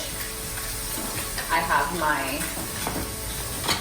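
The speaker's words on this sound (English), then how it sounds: "I'm just moving the pan to get the oil coated on all sides of the fish." Fish frying in oil in a pan gives a steady loud sizzle as the pan is moved, with brief scraping and a person talking over it.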